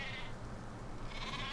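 Dall sheep in a Planet Zoo habitat bleat over a steady outdoor ambience, with one bleat at the start and another near the end, both moderately distant and soft.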